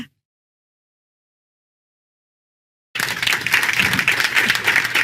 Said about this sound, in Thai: พวกเราทั้งห้องปรบมือชอบใจ